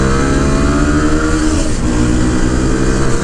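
A CFMOTO 700 motorcycle engine revs hard and steadily under acceleration, a loud continuous mid-pitched drone with shifting harmonics and no speech, close to the microphone.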